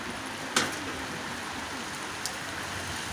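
Steady rain falls as a constant wash of hiss, fairly quiet, with a couple of brief sharper ticks standing out against the even patter.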